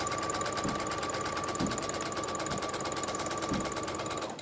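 A sewing machine stitches a fabric mask in a fast, steady mechanical whir, with a rhythmic clatter repeating about once a second, close and continuous before stopping at the end, with no talking.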